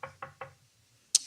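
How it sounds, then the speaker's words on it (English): Three quick, evenly spaced knocks on a door, close and crisp, followed after a pause by a single sharp click or bang. "And then a knock came on the door."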